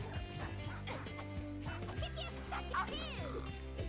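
Dogs bark and yip in the fighting game Them's Fightin' Herds, short repeated barks mixed into game music and effects beneath steady commentator talk.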